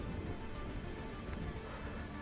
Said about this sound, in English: and it starts to rain